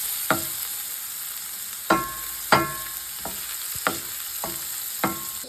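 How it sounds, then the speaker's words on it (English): A spatula stirs chopped onion frying in a pan, with several separate scraping strokes over a steady soft sizzle, close and moderately loud. "Let's mix it for a little bit before we add the spices"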